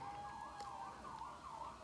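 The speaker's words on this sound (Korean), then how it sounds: "바깥에 경찰차가 이렇게 돌아다니는데" A police car siren wailing outside, faint and distant, its rising and falling tone cycling steadily and alone.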